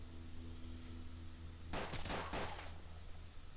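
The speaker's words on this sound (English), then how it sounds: "The shot was fired" Gunfire in the western video game Hard West: after a quiet stretch with low hum, a short burst of two or three loud, sharp shots rings out, then fades.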